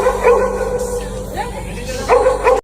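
A dog yips and barks in short bursts near the start and end, with whimpering between, heard under people talking.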